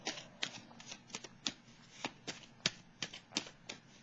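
Tarot cards being shuffled by hand, a run of crisp riffling flicks and taps in an irregular rhythm, close and fairly quiet with no voices.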